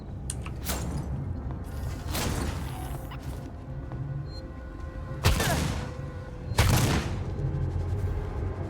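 A few heavy, widely spaced blasts of gunfire boom out in Alien Isolation, each a sharp loud burst standing out over a low rumbling ambient drone.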